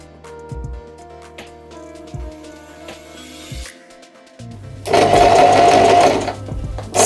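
A Janome 1000A sewing machine stitches in short bursts, its motor whirring close and steady, then a louder, denser run of rapid needle strokes near the end, with no talk.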